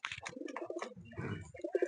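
Pigeons in a male loft coo close by, a run of soft, low, repeated throaty coos with short gaps between calls. No one speaks.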